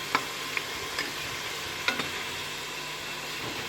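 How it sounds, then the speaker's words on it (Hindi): Chicken frying in a pan over a gas flame, a steady low sizzle broken by a few sharp clinks of a utensil stirring against the pan. "चिकन हमारा हो गया बहुत अच्छे से फ्राई है।"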